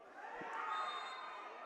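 A bench crowd at a WISL men's indoor soccer semifinal shouts and roars in a continuous blended din that stays at an even, moderately distant level.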